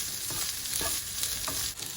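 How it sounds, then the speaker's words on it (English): Chopped potatoes fry over medium heat in a pan for a potato frittata, giving a steady, close sizzle with a few scraping stirs and no voices. "I'm going to add the chopped up potatoes and once again cook for 2 to 3 minutes on medium heat."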